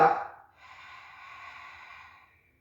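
A steady, breathy exhale during a Pilates core exercise follows a brief noisier intake, a soft airy rush lasting about two seconds, close and quiet.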